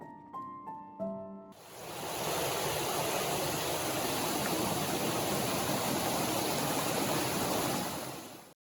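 River flowing nearby, a steady broadband rush of water that starts abruptly after a few brief tones and holds loud and constant for several seconds before fading at the end.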